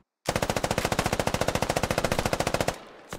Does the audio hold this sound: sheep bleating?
no